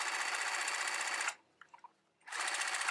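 A sewing machine stitches shirring on knit fabric with elastic thread, running in a steady whir, pausing briefly, then starting up again.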